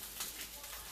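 Food fries in a pan with a soft, steady sizzle and light crackling, faint and close, with no talking.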